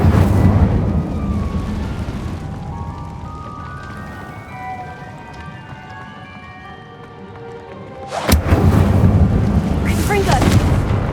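The Incendio fire spell is cast in Hogwarts Legacy: a sudden loud whooshing burst that roars on for a few seconds, following quieter game ambience with tonal music.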